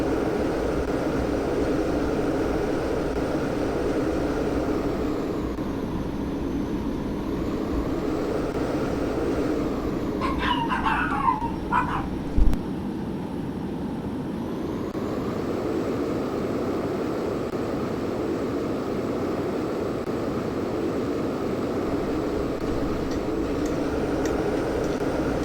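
A plane flies in the Roblox game Plane Crazy, a steady engine drone held throughout with a pitch sweep midway and a few brief clicks and whistles.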